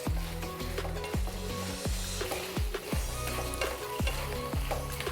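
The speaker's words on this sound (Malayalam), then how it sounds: "നന്നായിട്ട് മിക്സ് ചെയ്യുക" Fried vegetable Manchurian balls stirred in a sizzling pan, a steady close frying hiss broken by regular scraping strokes of the spoon about twice a second, with no talk.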